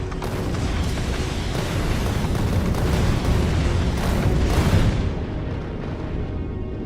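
Rocket turrets in Factorio Space Age fire without a break, their explosions merging into a loud, continuous rumble of booms and bursts that holds for several seconds before easing off. No voices.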